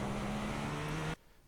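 GTP prototype race car in iRacing at Long Beach, engine droning loud and steady with a sustained tone, then cutting off abruptly near the end.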